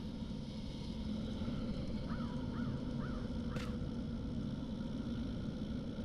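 Four short crow caws from the character Crow in the game Dreamfall, spaced roughly evenly, heard over a steady low wind-like ambient bed.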